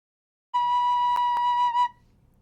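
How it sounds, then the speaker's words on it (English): Recorder sounding the note B, a single clear steady whistle-like tone held for over a second, with a couple of faint clicks, then stopping cleanly into near silence. "Our recorder note B sounds like this."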